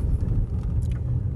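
A car rolls steadily along a road, heard from inside as a constant low engine and tyre rumble, loud and unbroken, with no voices.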